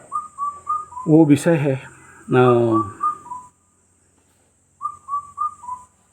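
Birds singing outdoors, a series of clear, repeated whistled notes in short runs near the start and again near the end, with someone talking over the middle.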